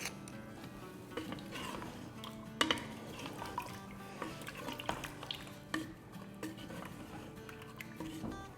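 A spoon scrapes and clinks against a pot as kewra, ginger paste and spices are stirred together for a korma, with irregular knocks and scrapes over a quiet background.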